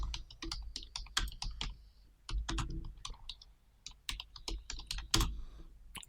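Rapid HTML typing on a computer keyboard, with dense, uneven bursts of close key clicks and a few brief pauses between runs.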